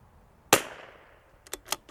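A single sharp crack from a .22LR CZ 457 rifle at an outdoor range, fairly faint and quickly decaying, followed by a few softer ticks and clicks.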